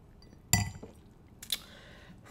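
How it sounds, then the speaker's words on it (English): A wine glass clinking as it is picked up, two or three bright, close taps separated by quiet, ending in a brief squeak, with no talk. "I got to go get a glass of wine."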